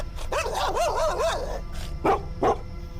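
Dogs barking wildly in panic: a rapid run of close, rising yelping barks followed by a pause and two more sharp single barks, loud and alone without speech.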